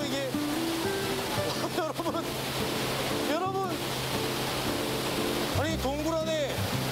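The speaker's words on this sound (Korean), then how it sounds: "동굴 속에서 거대한 물줄기를 쏟아내는 폭포가 그야말로 장관입니다" A large waterfall pouring inside Daegeumgul, a limestone cave, makes a constant loud roaring wash of water, while a person speaks briefly over it.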